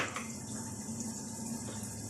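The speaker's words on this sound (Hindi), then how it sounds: "1 कप पानी डालेंगे ताकि मसाला बहुत अच्छी तरह से भून जाए" Water poured from a cup into simmering mutton biryani masala with tomatoes, a steady close splashing, sizzling wash lasting about two seconds with no voices.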